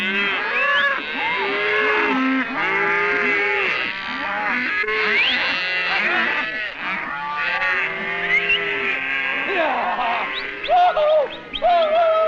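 A cow and her calf moo repeatedly on the open range, loud and close. The calls are long and overlapping, with short gaps between them, and no voices are heard.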